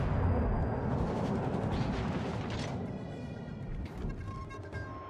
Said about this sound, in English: I see I'm constantly being shot at with high explosive shells